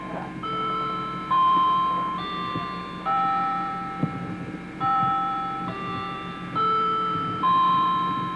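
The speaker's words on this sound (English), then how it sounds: "You can hear the chime in the background." Glass chimes play in the background during a tour, sounding a slow sequence of clear ringing tones, each sustaining and fading before the next begins, steady and moderately loud over a low room murmur.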